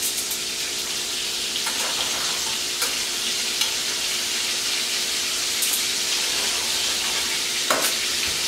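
Orange chicken pieces frying in oil in a pan give a loud, steady hiss of sizzling, with occasional sharp crackles and spatters cutting through the constant bubbling.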